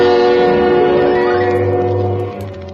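Subway train sound effect for an old-time radio suspense drama: a loud rumbling passage with sustained horn-like harmonic tones over a low rolling drone, fading slightly toward the end.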